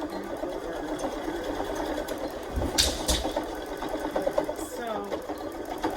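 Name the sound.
sewing machine backstitching over a rubber band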